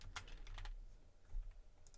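A computer keyboard is typed on in a quiet room, a quick run of soft, uneven key clicks close by, with no one talking.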